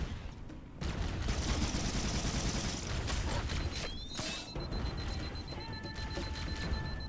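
Rapid gunfire from the Halo video game rattles continuously and loudly for several seconds, with sharp mechanical clicks and rising electronic tones layered over the dense bursts.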